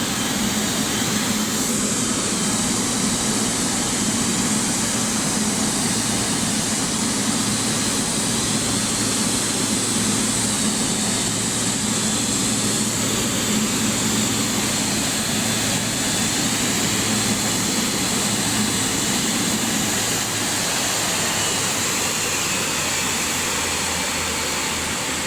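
Garuda Indonesia Boeing 777 jet airliner at an airport, its engines giving a loud, steady, broadband roar with a low rumble that holds throughout, easing slightly near the end, with no talk.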